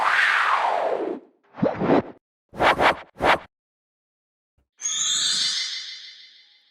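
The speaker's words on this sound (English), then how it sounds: "Here are a couple of whoosh sounds that I made." Synthesized whoosh effects made for a Super Mario 64 sound redesign: a long falling sweep, three short swishes in quick succession, then a bright tonal rising-and-fading whoosh with a delay-like shimmer, all clean and close with no talk.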